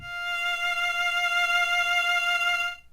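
A single sustained F note bowed on a violin in first position, a steady tone with a rich stack of harmonics held for nearly three seconds before stopping.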